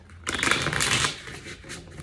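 Tarot cards being shuffled by hand, a dense rustling and riffling burst that starts abruptly, holds for about a second, then tails off into softer flicks, close and alone with no talk.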